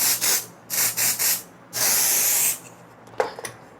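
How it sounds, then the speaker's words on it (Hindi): Hair spray hisses from an aerosol can onto styled hair in several close bursts, three short puffs followed by one longer spray, then a few soft handling sounds. "और अब यहाँ पे करना है हेयर स्प्रे"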